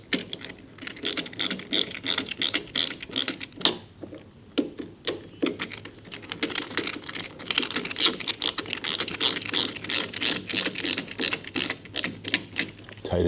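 Screws are driven by hand into the frame of an Andersen casement window sash during a glass replacement, producing rapid, close ratcheting clicks in bursts with short pauses.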